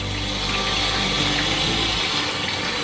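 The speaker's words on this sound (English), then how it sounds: "wash each little bunch because there's a few little, it's not as clean as I would like it to be" Bunches of freshly picked watercress are rinsed under steady running water, giving a loud, continuous rushing and splashing hiss with a low rumble that eases off near the end, and no voices.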